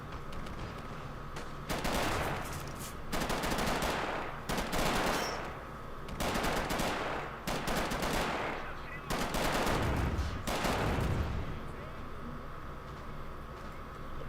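Game gunfire in a 1v1 tank match, a T-60 tank trading shots: several heavy bursts of shooting at irregular intervals, loud and close over a constant low background rumble.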